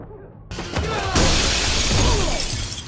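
Glass shatters loudly in an action movie scene, John Wick Chapter 3: a sudden crash followed by a dense, sustained spray of breaking shards and debris, with faint background sound beneath.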